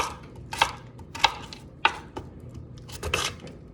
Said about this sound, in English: Cut down the center twice, and then we chop